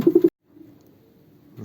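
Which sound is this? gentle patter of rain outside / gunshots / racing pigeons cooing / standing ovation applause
racing pigeons cooing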